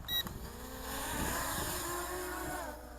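Eachine EX5 229-gram brushless GPS camera drone spinning up its motors for automatic takeoff outdoors in wind: a rising whine that swells and holds steady for a few seconds, fairly close.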